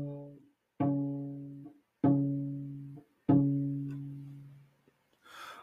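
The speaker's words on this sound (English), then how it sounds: "C sharp for you is going to be that second tape in the shifted position." A double bass bowing C sharp at the second tape in shifted position, four separate sustained notes each held about a second with short gaps, close and clean, ending in a soft burst of breathy noise.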